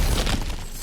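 Cracked ground smashed open in the God of War Ragnarok video game, a single short crashing shatter that fades quickly.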